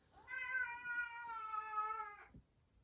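A single long, drawn-out cat meow rises, holds steady for about two seconds and then cuts off, clear and fairly close in a quiet room with no talking.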